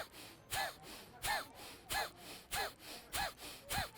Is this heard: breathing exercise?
yes